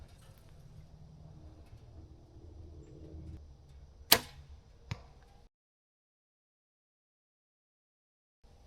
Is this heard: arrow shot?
yes